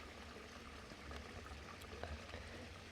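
A creek running through a rural property flows with a steady, low rushing wash that stays even throughout, with faint splashy bursts scattered in it.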